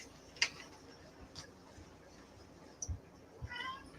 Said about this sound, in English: Gotta feed this fucking cat